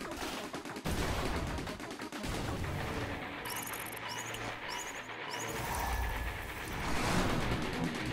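Sustained video game gunfire, dense and continuous with booming impacts and a few sharp electronic chirps in the middle, loud and steady throughout without any talking.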